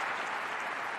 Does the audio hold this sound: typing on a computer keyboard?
no